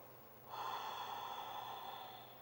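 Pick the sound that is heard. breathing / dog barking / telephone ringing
breathing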